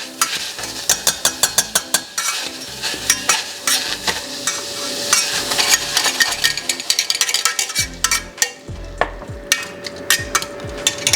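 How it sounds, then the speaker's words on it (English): Fresh raspberries mashed in a pan with a simple potato masher, a rapid run of wet squelching thumps and metal taps close by, with a brief lull partway through. "Just some fresh raspberries into a pan, and I like to mash those up a little bit"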